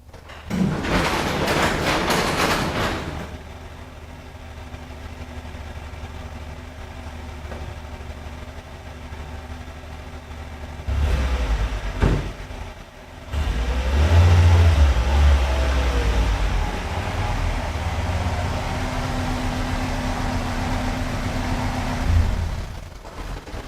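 A car engine heard from inside while driving fast on the road, a low steady drone with a brief louder burst at the start and surges of rumble midway, continuous and fairly close.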